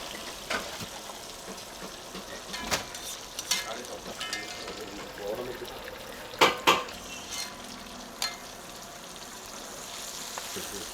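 Crab frying in hot coconut oil at a Kozhikode toddy shop kitchen, with a low steady sizzle under scattered clinks and scrapes of a pan and utensils, a few sharper knocks standing out.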